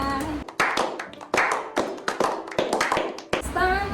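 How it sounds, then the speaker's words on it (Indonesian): Several people clap their hands in applause at an indoor Chinese food tasting, quick uneven claps for about four seconds, close and lively, with voices mixed in. "Tepuk tangan."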